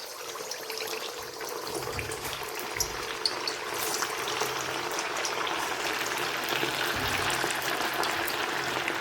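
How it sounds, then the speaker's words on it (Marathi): Fasting vadas frying in very hot oil over a high flame, a steady close sizzling hiss with crackling bubbles that continues throughout. "आता त्या तेलामध्ये आपण जे हे वडे तयार करून घेतले होते उपवासाचे,"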